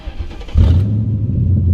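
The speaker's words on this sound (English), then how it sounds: "crank on the car" A Ford Crown Victoria engine cranks briefly, then catches and settles into a steady, loud idle hum nearby, with no talking.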